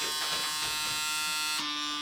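PMD microdermabrasion facial device running with suction, a steady close electric buzz that shifts pitch near the end as the suction engages.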